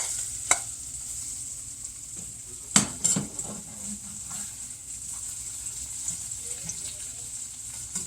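Onions frying and browning in a pan in a home kitchen, a steady soft sizzle with occasional clinks and scrapes of a utensil stirring against the pan.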